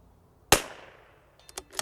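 A CZ 457 .22LR rifle fires one sharp, close shot at a target 150 yards away, the crack decaying quickly, followed by a few quieter clicks and clacks.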